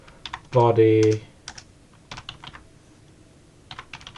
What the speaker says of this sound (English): I just held down shift while I was typing just to give them my capital letters